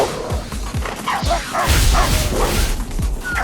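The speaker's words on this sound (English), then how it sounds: "Look at this tiny little dog's attacking me." A tiny dog in the video game Tokyo Jungle barks and yips in quick repeated bursts while it attacks. The sharp, close barks come over a busy game soundscape.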